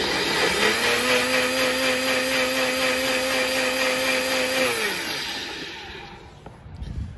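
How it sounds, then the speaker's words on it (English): Blender whirring through coffee with heavy cream and butter, a loud steady motor hum for about five seconds that then winds down, leaving a fainter rattle. "I blend my coffee so I don't wake up Sleeping Beauty in the other room"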